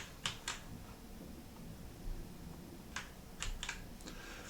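Fingers tap on a computer keyboard in short clusters of quick, crisp keystrokes separated by pauses, close and fairly quiet, with no talk over it.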